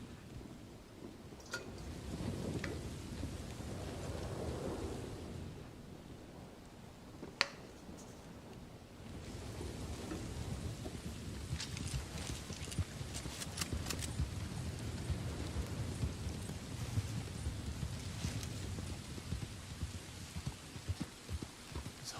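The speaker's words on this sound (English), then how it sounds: "If it keeps storming in your game like this and you're sick of it, you can just exit and reload." Thunderstorm in Red Dead Redemption 2, a steady wash of rain with low rumbling thunder rolling through, a couple of brief sharp cracks, continuous and fairly loud throughout with no talking.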